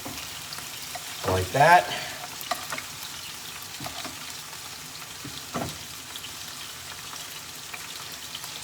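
Scallops sear in hot oil in a pan with a low, steady sizzle and a brief stir or clatter. A voice says a couple of words over the cooking.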